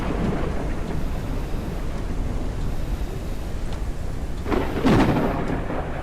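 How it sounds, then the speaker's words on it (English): Steady rain and wind from a thunderstorm in the game Forever Skies, with a louder rumble of thunder rising near the end over the constant downpour. "And the storm isn't helping."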